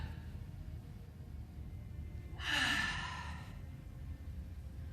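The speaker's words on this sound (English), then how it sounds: "Take one more deep breath." A single deep breath is exhaled softly and audibly in a brief sigh during a vinyasa yoga flow, rising out of quiet room tone.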